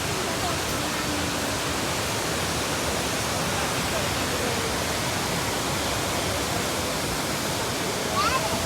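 Heavy torrent of the main waterfall at Courtalam pours in a steady, dense roar close by, a broad wash of falling water that fills the whole scene without letup.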